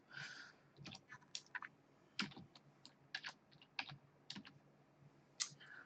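Fingers tap a computer keyboard in an irregular burst of crisp clicks, close and fairly quiet, with no voices.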